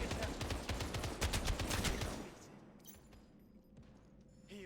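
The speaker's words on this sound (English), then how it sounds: "I hear shooting off in the distance too" Dense volleys of distant gunfire crackle and rattle in Final Fantasy VII The First Soldier, a heavy stretch of rapid shots that thins out into quieter scattered noise partway through.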